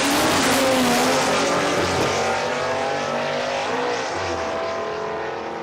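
An eighth-mile drag racing car at an Australian event, loud and close, screaming as it accelerates through its gearbox with rising engine pitch sweeps for each gear before fading slightly as it pulls away.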